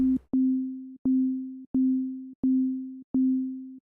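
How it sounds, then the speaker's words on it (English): A synthesizer sine wave pluck with sustain turned all the way down repeats five times at an even pace, each note a clean, steady low hum that stops short, with nothing else sounding. "If I turn the sustain down, all the way down, it's going to turn into a sine wave pluck"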